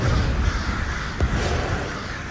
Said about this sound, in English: What? Why crows?